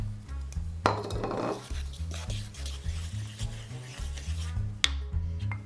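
Flour, baking powder and sugar are stirred together in a mixing bowl for Sicilian minulicci, giving a steady scraping, rubbing sound with a few sharp clinks of the utensil against the bowl. There is no talking.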